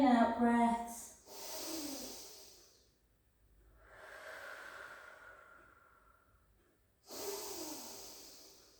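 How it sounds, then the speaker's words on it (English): Deep, slow in-and-out breaths during a cardio fitness class, three long airy exhalations and inhalations separated by short quiet gaps, close and clear with no talking. "some lovely deep in-out breaths."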